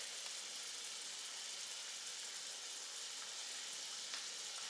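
Food roasts and sears in a hot pan for meatless chili, a steady dense sizzle running loud and unbroken throughout, with a few faint pops and no talking.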